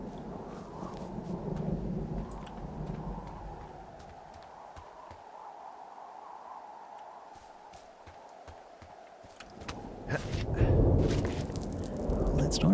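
Thunder from a storm in the video game Firewatch rolls as a long, deep rumble that fades, then swells again with heavier crashes near the end, loud and close.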